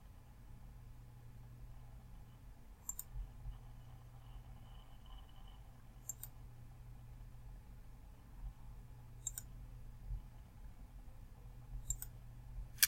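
Computer mouse clicks while working in Microsoft Word 2016, four sharp, isolated clicks spaced a few seconds apart over a quiet, steady low hum.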